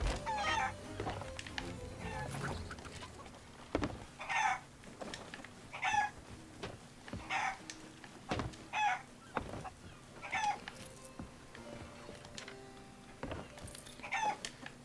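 Chickens in the pirate video game Sea of Thieves give a run of distinct clucks and squawks at fairly regular intervals, moderately near and set against a quiet low background hum.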